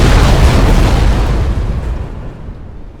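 An enemy spaceship blows up in a space-battle video game as a loud, close, rumbling explosion. It starts at full force and slowly fades over about three seconds.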